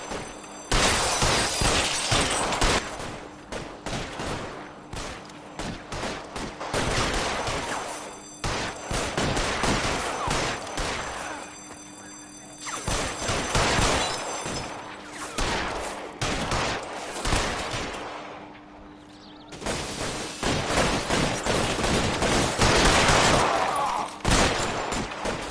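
A shootout in the video game LA Noire fills the air with dense, overlapping gunfire: rapid volleys and sustained bursts in several long waves, loud and close, with brief lulls between the barrages.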